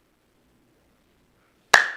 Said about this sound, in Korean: 손뼉 치면 끝납니다.